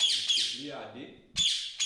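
A parrot gives harsh, bright squawks in two loud bursts, at the start and again near the end, with a voice talking in between.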